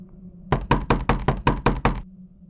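Eight sharp, evenly spaced knocks on a hotel room door, loud and close, set against a low background hum with quiet before and after.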